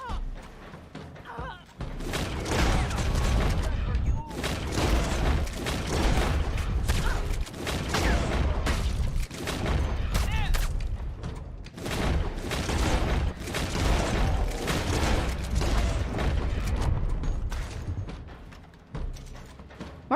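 Gunfire in Red Dead Online, rapid bursts of repeated shots with heavy thuds and booms, loud and nearly continuous, with brief lulls between volleys.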